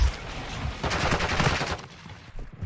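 Rapid gunfire in Call of Duty: Modern Warfare II during a competitive esports match, a short dense burst of shots up close that drops off toward the end.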